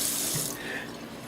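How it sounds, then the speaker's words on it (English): A running tap splashes into a sink while hands are washed under it, a close, loud, continuous hiss of flowing water with no voices. "I'm going to wash my hands because I'm going to get playing in the food again like I normally do"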